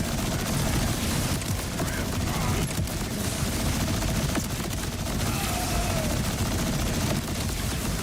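Dense, continuous rapid gunfire from a boss fight in the video game Borderlands 4, loud bursts of shots and impacts layered over one another for the whole stretch with no pauses.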